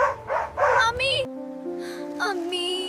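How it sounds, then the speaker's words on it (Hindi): Several dogs running toward someone, giving a burst of quick, loud close barks and yips that give way to sustained tonal music. "ये कुत्ते मेरी तरफ क्यों दौड़ रहे हैं?"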